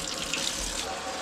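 Cool water runs from a kitchen tap in a steady, close, hissing stream while cheese is being made.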